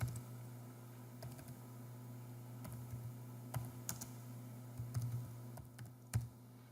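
Typing on a computer keyboard to enter an annual sales header in a forecast report: sparse, light keystrokes scattered across a steady low hum, close and fairly quiet.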